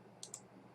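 Two quick, faint mouse clicks about a tenth of a second apart on a computer, over a quiet room hum.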